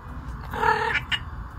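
A pet cat vocalizing with a drawn-out, wavering wail that wants to play, one mid-loud call in the middle followed by a short second chirp, close by.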